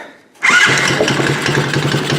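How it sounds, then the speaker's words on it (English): A kids' 50cc ATV engine catches after a brief quiet moment and settles into a loud, steady, buzzy idle up close, with no voices. "I'll just bump the key here and fire it up"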